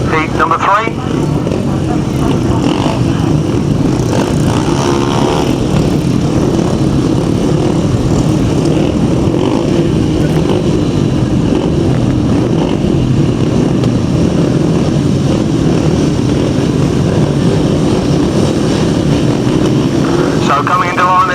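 Speedway motorcycles launching from the start of a heat on a sand track at a 2007 championship, a dense, continuous engine roar that stays loud throughout, with a commentator talking over it.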